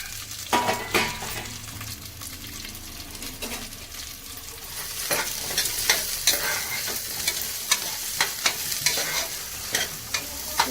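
Spices and greens fry in a couple of spoons of oil for country-style chicken chops, a steady sizzle broken by repeated scraping stirs of a spoon against the pan, growing busier toward the end.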